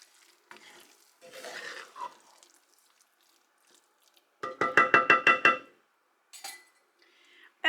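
Broccoli stirred in a hot pan: scattered scrapes and clinks, then a rapid run of about eight sharp metallic utensil knocks against the pan, followed by a couple of lighter taps, close and clear without talk.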